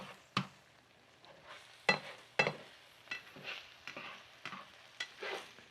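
Egg mixture is stirred around a frying pan with a utensil, giving irregular scrapes and sharp clacks over a faint background sizzle, with no talking.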